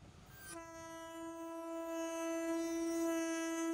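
A locomotive on a railway track near elephants sounds a sustained, rich horn that swells steadily louder over a low rumble, heard alone without talk.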